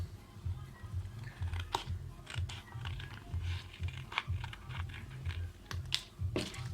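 Scissors cut a template out of cardstock in a steady run of close, crisp snips and paper rustles, with no talking.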